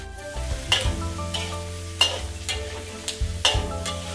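Pork, ginger, garlic, dried and fresh chili are stir-fried in a wok with soy sauce, giving a low sizzle under several sharp, regularly spaced scrapes and clanks of a spatula.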